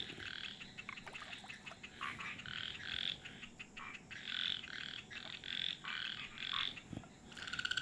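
A chorus of frogs croaks in the Indian wild, many pulsing, overlapping calls rising and falling in bursts, moderately near over a low background hiss.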